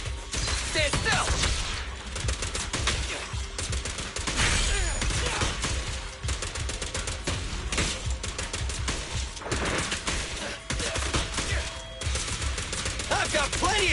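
Rapid, dense gunfire bursts rattle almost continuously in Zenless Zone Zero combat, loud and close, with mechanical clacks and short pauses between volleys; game voices talk over it.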